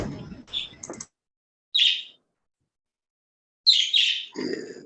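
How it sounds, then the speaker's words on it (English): A pet bird chirps in the background of a video call, giving short, bright, high tweets in separate bursts with silent gaps, while a voice briefly speaks near the start and end. "Your bird in the background."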